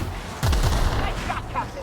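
A gunshot fires in The Outer Worlds, a loud sharp boom that rings out briefly over ongoing game ambience.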